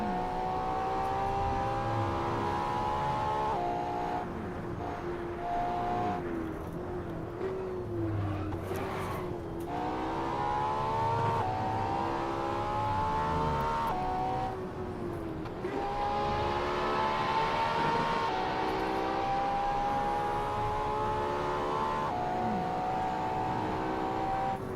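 Racing car engine in Assetto Corsa on the Shuto expressway, a loud continuous high-revving drone rising and falling through gear changes, with tire noise and no talk.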